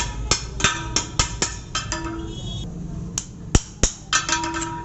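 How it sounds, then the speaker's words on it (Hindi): Sharp metallic hammer blows strike a steel drift wedged in a drill chuck sleeve on a drilling machine in a fitter's workshop, a series of about a dozen close, ringing taps at an uneven rhythm. "दूसरे स्लिप को भी निकालने के लिए इसमें ड्रिफ्ट को फंसाते हैं और हैमर के द्वारा चोट देते हैं"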